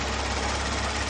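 A Hyundai Genesis Coupe BK Grand Touring engine idles steadily with a low, even hum and faint rumble, close and continuous for a brief moment, no voices.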